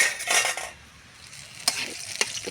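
Dried red chillies, bay leaf and cumin fry in hot oil for Bengali muri ghonto, a soft sizzle beneath scraping stirs and a couple of sharp metal clinks of utensil against pan.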